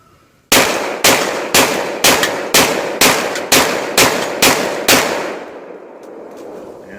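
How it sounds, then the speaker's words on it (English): An EAA Witness 10mm pistol fired in rapid succession: ten sharp, loud shots at an even, quick rhythm, each with a short ringing tail, then a fading outdoor hush. "We're going to do rapid succession to see how well I can stay on target with this EA Witness 10mm."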